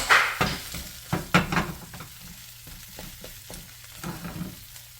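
Cheese sizzles and fries softly in a pan while being toasted into milk chips, with a spatula scraping and tapping against the pan in close, irregular strokes.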